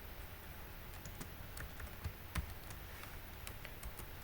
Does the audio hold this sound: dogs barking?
no